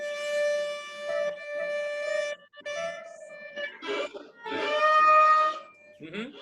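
A sustained bowed cello D note, stretched out of its normal position, rings steadily with slight wavering, broken by short pauses and swells, with a brief scraping buzz near the end.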